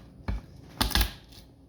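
Garlic cloves being crushed for chicken noodle soup, three short dull cracking presses, close and fairly quiet, with no voices.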